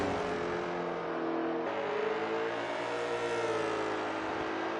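Stadium truck engine revving on a parade lap at Farm Mill Raceway in SRX: The Game, a steady loud drone with pitch rising and falling through gear changes, close and without talk.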